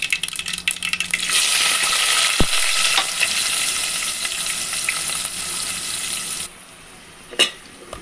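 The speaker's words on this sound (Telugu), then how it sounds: "ఇప్పుడు ముందుగా కట్ చేసుకున్న ఆనియన్స్ని వేసుకోండి" Chopped onions hit hot oil already crackling with mustard seeds, cumin and fenugreek, giving a loud, steady sizzle with stirring scrapes that drops off sharply near the end, leaving a quieter hiss and one brief clink.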